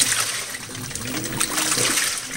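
An LG top-load washing machine sloshes and swishes laundry through low water, giving a continuous, close, wet churning sound with gurgling surges.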